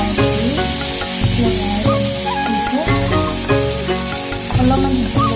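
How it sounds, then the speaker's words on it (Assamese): Fiddlehead ferns fry in a wok with very little oil, giving a loud, continuous sizzle and hiss with stirring, while tonal background music plays alongside. "কেৰাহীত দি দিলোঁ, একদম কম তেলত বনাইছোঁ"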